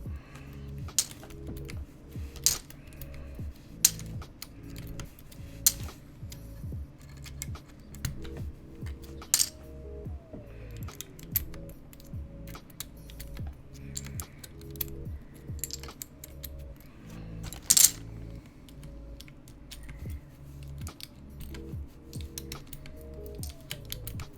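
Steady typing on a Kepler mechanical keyboard with a POM plate and 67-gram Zealios V2 switches lubed with 205 grade 0, giving close, crisp, rapid clacks with occasional louder bottom-out hits and no talking.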